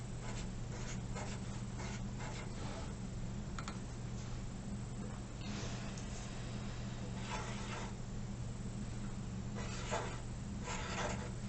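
Pen scratching on paper while drawing Zentangle flower patterns, a quiet close series of short strokes and scribbling bursts over a faint steady hum, with no voice.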